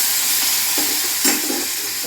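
A spoon stirs tomatoes sizzling in hot oil with curry leaves in a home kitchen pan; steady loud frying hiss with a couple of soft scraping stirs, no talking.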